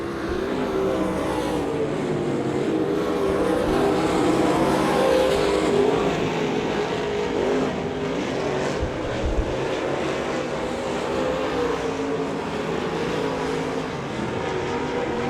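Race cars running a heat race at Devil's Bowl Speedway, a continuous loud engine roar of several cars circling the track, swelling and fading as they pass, heard without talk.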